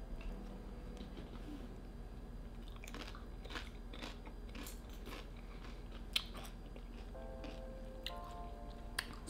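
Tortilla chips dipped in green salsa are crunched and chewed close up, with repeated crisp bites and soft chewing against quiet background hiss.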